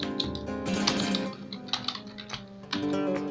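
Someone typing a name on a computer keyboard, quick rapid key clicks under a loud bed of background music.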